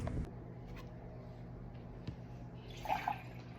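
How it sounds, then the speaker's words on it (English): Water poured into handmade pottery containers for soy candles, a steady low pouring wash with a brief brighter splash near the end, close and fairly quiet. "So pouring the water in to the level that I want these"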